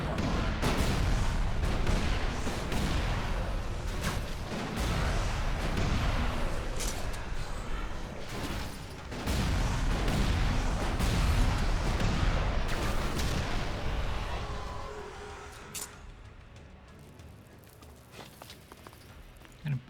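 Gunfire in the video game ELEX II rattles out in dense, rapid volleys for most of the stretch, loud and continuous, then thins out and fades near the end, with a voice occasionally audible.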